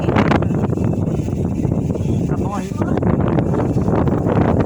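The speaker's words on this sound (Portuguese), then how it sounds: "Vento maravilhoso." Strong wind buffeting outdoors near water, a constant loud rushing roar over the microphone, with someone speaking briefly partway through.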